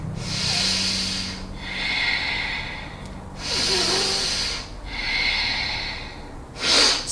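Forceful nasal breathing during a yoga practice, heard as close, loud, hissing breaths drawn in and pushed out in a slow, steady rhythm of about four cycles, ending in a sharper exhale.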